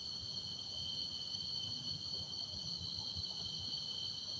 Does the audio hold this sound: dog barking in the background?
no